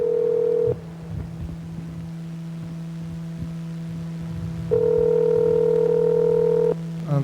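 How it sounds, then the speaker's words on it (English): An outgoing telephone call to a producer, with a steady ringback tone that sounds in two long bursts separated by a few seconds of quiet line hum. "We're calling that Freddie, the producer."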